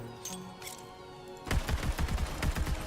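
Gunfire bursts out in Borderlands 3 as FL4K fires, a rapid string of loud, punchy shots starting abruptly after a quiet hum and continuing in quick succession.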